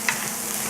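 Corn fries on too-high heat in a pan, a steady broadband sizzle with a brief scrape near the start, close and moderately quiet.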